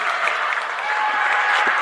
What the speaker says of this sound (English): And finally, the Dover-Sherborn crowd has a reason to cheer. And they're all standing up cheering here.